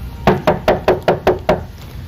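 Seven crisp, evenly spaced knocks on a door in a Filipino radio play performed by housemates, sharp and close, with no talk over them.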